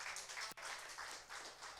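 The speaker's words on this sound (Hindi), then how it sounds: "जोरदार ताली प्रभु को दे" A church congregation applauds during a Hindi-language service, a steady wash of many hands clapping that fills the room without pause apart from one brief dip.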